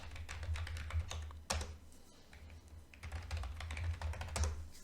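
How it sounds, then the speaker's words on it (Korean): Fast typing of an email address on a computer keyboard, dense clicky keystrokes close to the mic over a low steady hum, with a brief pause in the middle before the typing resumes. "바로 사인인 버튼을 눌러서 갖고 계신 이메일 주소를 타이핑해 주시면 됩니다"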